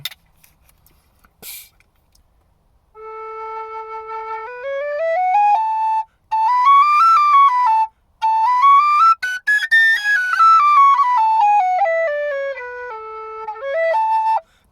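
A Dante high whistle plays the note A, a clear, pure tone sustained alone with slight breathiness, repeated in several long held phrases separated by brief pauses, close and steady.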